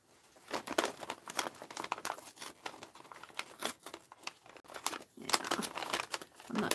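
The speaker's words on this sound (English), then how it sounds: "From tearing the paper." Crinkling and tearing of gift wrapping paper, close and loud, in irregular bursts of rustling and ripping that run throughout.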